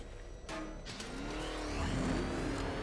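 A police sports car engine in Batman: Arkham Knight revs up, its pitch sweeping higher as it accelerates, loud and close, with no talk.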